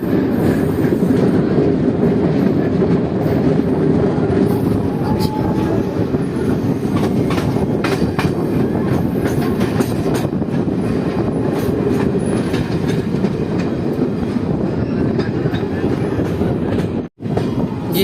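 Passenger train 05514 runs with a loud, continuous rumble and rhythmic clickety-clack of wheels on rails as it approaches Kakarghati station, with faint wheel squeal and a sudden brief dropout near the end.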